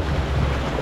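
Rushing, splashing water on the Bengal Rapid River rapids ride at Bellewaerde Park, a loud steady wash of spray and churn close by, with no voices over it.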